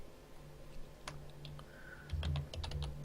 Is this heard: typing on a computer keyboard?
yes